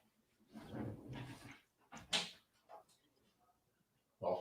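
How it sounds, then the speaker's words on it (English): A pet dog named Wolfie at a door, with scratching and knocking bumps in short bursts, a faint whimper, and a person speaking nearby at the start. "My dog's trying to get in the door."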